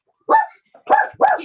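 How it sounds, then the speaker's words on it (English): A small dog yaps three times in a row, loud and close, with short sharp barks at a quick uneven rhythm and no voices over them. "My little dog's yapping."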